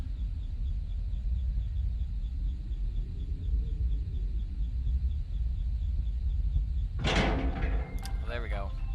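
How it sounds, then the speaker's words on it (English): Prison door opening in the game FNAF 5, a sudden loud metallic clank and scrape near the end, following a long stretch of low rumbling ambience. "Fucking prison door opening sound"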